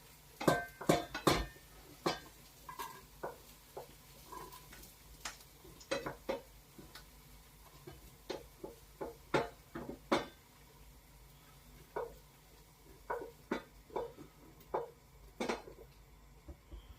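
Onions being added to a pan to cook gently without browning, for a steak, kidney and mushroom pie: a run of sharp clinks and taps of utensils against the pan, spaced irregularly, close and fairly quiet, with no talk.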